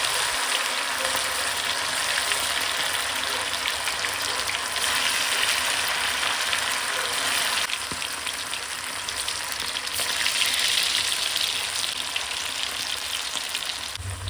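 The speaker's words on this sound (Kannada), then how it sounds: "ಇನ್ನು ಎಣ್ಣೆ ಕಾಯ್ದ ತಕ್ಷಣ ಕಬಾಬ್ನ ಒಂದೊಂದಾಗಿ ಇದ್ರೊಳಗೆ ಬಿಟ್ಕೊಡೋದು" Mint chicken kebabs frying in hot oil, a dense, continuous sizzle and crackle that swells slightly partway through, close and loud with no voices.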